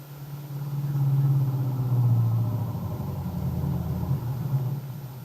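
A car engine runs steadily as a radio drama sound effect, a low rumbling drone at the same level for several seconds with a slight swell midway, as headlights pick up a young Marine walking along a road.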